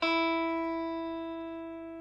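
A single electric guitar open low E string is plucked and rings out cleanly, slowly fading over two seconds with no other sounds.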